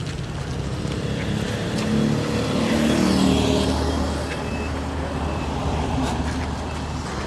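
A truck rumbles past on a road beside rice fields, a broad steady roar that swells toward the middle and eases off, continuous throughout with faint voices underneath.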